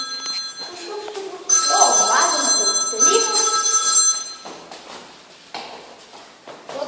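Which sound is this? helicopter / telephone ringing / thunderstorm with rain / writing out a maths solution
telephone ringing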